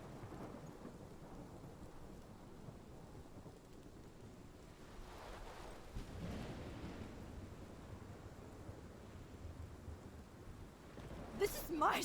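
Thunderstorm in the video game Life is Strange, a steady wash of heavy rain with low rolling thunder rumbling throughout, swelling midway and ending in a sharper burst, with a voice partly audible beneath.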